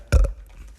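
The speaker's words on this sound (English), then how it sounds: "did I just burp into the microphone?" A single short, close burp goes straight into a microphone on a podcast. It is a loud, throaty burst that lasts a fraction of a second and is followed by quiet room noise.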